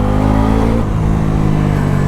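Bajaj Pulsar NS400Z motorcycle, a 2025 UG model with a bi-directional quick shifter, pulls hard on a city ride, its engine droning loud and steady with a throaty rising growl throughout.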